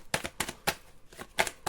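Tarot cards being shuffled by hand in a series of quick riffling bursts, several crisp rustles spaced apart, close and fairly loud.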